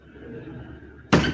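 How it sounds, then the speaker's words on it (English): A door swings shut with a single firm thunk near the end, following a second of quiet room tone. "Close the door."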